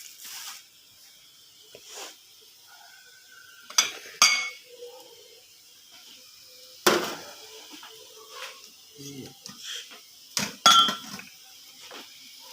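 Two cups set down one after another on a kitchen counter, with brief ceramic clinks and knocks among scattered quiet kitchen handling noises, close and fairly soft.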